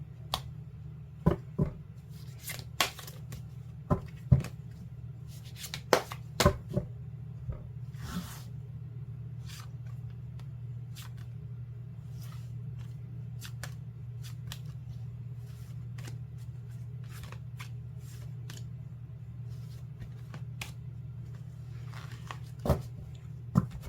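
Tarot cards being shuffled by hand before advice cards are drawn, with soft repeated riffling and sharp card snaps scattered over a steady low hum, close and fairly quiet.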